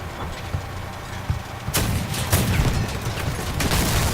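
An armoured vehicle's automatic guns fire in Crossout, a video game, as dense rapid bursts of shots that start sparse and then become continuous and loud after the first couple of seconds.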